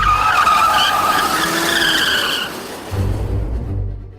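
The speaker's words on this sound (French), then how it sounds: "C'est ce qui arrive quand l'arrière de la voiture dérape et veut passer devant." A Formula 1 car spins out as its rear end slides, tires screeching in a loud sustained squeal that fades, followed by a low engine rumble.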